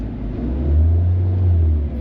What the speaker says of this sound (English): I'm bringing up engine speed, and nothing is happening with the exhaust camshaft bank one